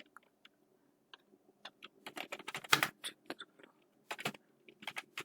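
Qualification details being typed on a computer keyboard in a quick, irregular run of crisp key clicks, starting sparse and then coming in dense bursts, close and without talk.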